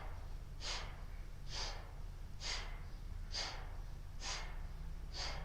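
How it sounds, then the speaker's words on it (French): Steady, deep breaths in and out during a standing yoga-style exercise routine, six broad airy breaths spaced about a second apart, close and clear over a low room hum. "Inspirez, expirez profondément."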